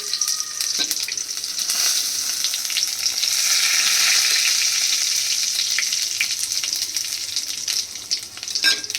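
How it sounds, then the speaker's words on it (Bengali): Bay leaf, dried chili, sugar and cumin sizzle steadily in hot oil, a loud continuous crackling hiss with occasional sharp pops and stirring clinks, no voices. "এই তেলের মধ্যে ফোড়ন দিয়ে দিচ্ছি তেজপাতা, শুকনো লঙ্কা আর চিনি,"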